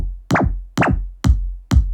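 Programmed electronic bass drum tuned to the note F hits four times at an even pace, each a loud, close, booming thump with a pitch drop and a long low tail.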